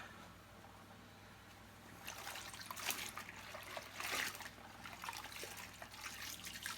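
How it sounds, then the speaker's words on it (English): Cloths being washed in a bucket of water, close sloshing and trickling that starts softly and grows into splashy, dripping bursts, with no talk. "I'll put those cloths in the bucket to wash"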